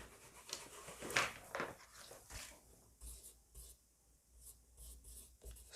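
Chalk or marker scratches across a classroom board in short rubbing strokes, faint and close, several separate scribbles with pauses between them while a math lesson on Venn diagrams goes on.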